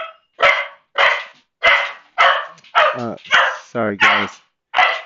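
A dog barks repeatedly indoors, about eight sharp, loud barks in a steady rhythm, a couple breaking into whiny yelps, with a brief spoken apology among them.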